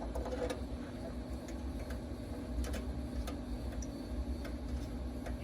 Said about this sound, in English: I hear it ticking